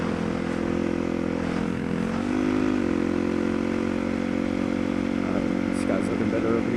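Motorcycle engine droning steadily while riding, with a shift in pitch partway through as the rider works the gears on a bike prone to sticking in neutral between first and second; constant loud engine and wind noise with some talk over it.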